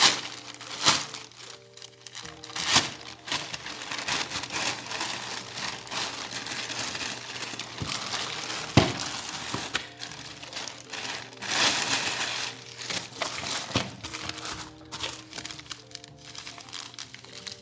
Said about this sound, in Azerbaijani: Hələlik isə bu sifarişi açıram.